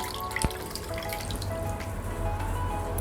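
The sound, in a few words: muslin cloth in a bowl of warm water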